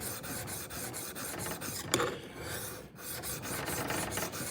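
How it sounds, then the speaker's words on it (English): A steel chisel is rubbed back and forth flat on an oiled sharpening stone, giving a close, steady rasping scrape in regular repeated strokes with a brief pause midway. "take your chisel and hold it dead flat on the stone. And then you're going to rub that backwards and forwards"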